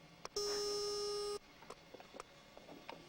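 A rotary-dialed phone line connecting to a computer gives a single steady electronic tone that holds for about one second. Faint scattered clicks and soft noises follow it.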